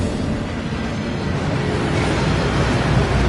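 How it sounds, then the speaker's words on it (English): Steady, loud rushing roar of the Gringotts waterfall in Hogwarts Legacy, a dense unbroken wash of falling water filling the whole moment without pauses or voices. "That waterfall washes away all enchantments."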